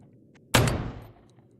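A single loud gunshot from a post-apocalyptic survival video game, Mad Max style, bursts out of near silence and fades over about half a second.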